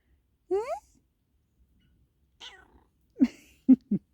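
A tired house cat meows several times indoors, one longer rising call followed by a few short, close meows separated by quiet gaps, no other voices.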